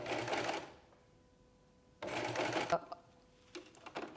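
A serger stitches a scalloped rolled hem in two fast mechanical bursts separated by a pause, followed by softer clicks and fabric handling, heard up close in a quiet room.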